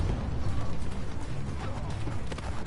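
Truck doors in the Call of Duty: Black Ops 6 video game give a creaking, ratcheting mechanical clatter, heard steadily within a dense, noisy game soundscape.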